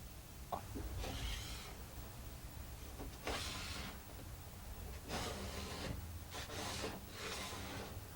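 A scraper drags over an old wood finish softened by paint remover, making several close, rough rasping strokes of about a second each over a steady low background hum.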